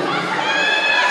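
Crowd at an evening beauty-pageant election night in Mèze, shouting and cheering together at the host, a steady loud mass of voices filling the whole moment with no single voice standing out.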